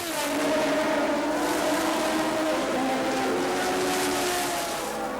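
A 1981 Formula 1 car at the Argentine Grand Prix screams past while lapping a slower car, its high engine note loud and sustained, with other race cars droning close behind throughout.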